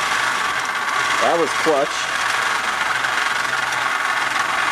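A motorized replica switch axe runs its flipping mechanism from axe to sword form, giving a steady close mechanical whir and buzz throughout, with a short spoken remark partway through.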